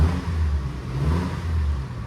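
A 2025 Toyota 4Runner TRD Off Road engine is revved, a deep, steady, close rumble that swells twice in short pulses across about two seconds, with no voices over it.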